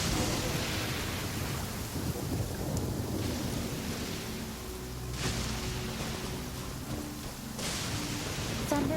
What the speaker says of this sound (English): Thunder and lightning can be quite frightening